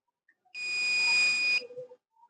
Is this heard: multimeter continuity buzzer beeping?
yes